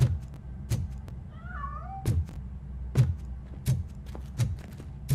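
In the video game Robocop Rogue City, a cat gives a short, fairly faint meow, set against steady, rhythmic heavy footstep thumps.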